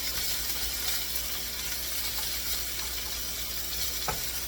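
Bacon from Salem's Meats frying in a pan, a dense steady crackling hiss that holds evenly throughout, with a faint knock near the end and no talking.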